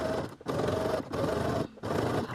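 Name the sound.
sewing machine stitching bias binding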